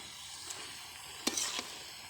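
Fresh leafy greens sizzle quietly in a pan over a clay stove, a soft steady frying hiss broken by a few short scraping stirs of the spatula.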